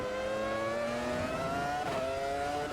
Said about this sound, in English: Ferrari badged engine there.